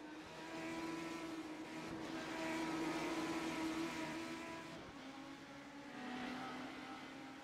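A race car in a racing video game on a flying lap, its engine whining and shifting pitch as it accelerates and changes gear, a steady quiet buzzing drone with no talk.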